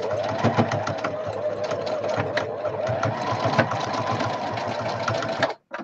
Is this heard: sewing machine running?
yes